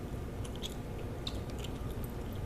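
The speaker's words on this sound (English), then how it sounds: "I know I'm smacking my chewing gum." Wet gum chewing from a person smacking chewing gum at close range, a run of soft sticky clicks and squishes spread irregularly across a quiet room background, no talking.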